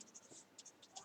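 Marker or chalk writing on a board during an accounting lesson, a quiet run of short scratchy strokes in an uneven rhythm, close and faint, with no talking.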